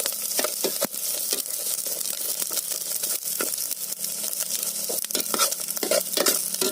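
Small dried bulinaw fish sizzle and crackle steadily in a hot frying pan, with scraping stirring strokes cutting through the constant spatter.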